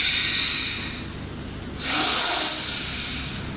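A single long, breathy exhalation during a Hatha yoga pose, a soft airy hiss swelling midway and trailing off, close and fairly quiet with no talk over it.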